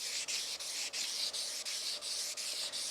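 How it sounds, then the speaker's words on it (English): Wet sanding the edge of a marble tile into a half-round bullnose, with sandpaper wrapped around a squeegee: close, steady, rhythmic scrubbing strokes with brief pauses between passes, no voices. "I'll take and spray this a little bit and start sanding"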